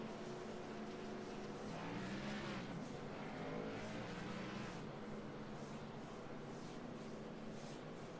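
Race cars circle a track behind a pace car under caution, their engines droning in a steady, distant roar as cars pass.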